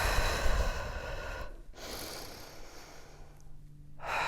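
Audible breathing during Pilates abdominal curls, a long breathy exhale followed by a brief pause and another extended breath, close and airy over faint background music.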